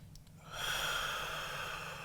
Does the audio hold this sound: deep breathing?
yes